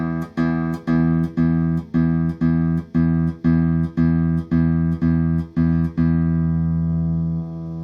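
A single low E note is plucked repeatedly on an electric guitar through a handmade amplifier, about a dozen even strikes, each ringing briefly before the next, the last one sustaining.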